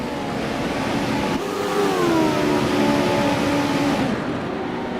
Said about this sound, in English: Engines are firing up.